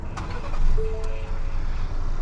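A 2022 Ford Maverick XLT with the 2.0-liter turbocharged four-cylinder cruises at night, giving a steady low road and engine rumble, with a brief thin whine partway through.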